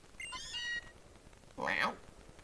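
Meowth from the game Pokémon Sun gives two short cat-like meows, the first a bright tonal call and the second a louder, breathier one after a brief pause.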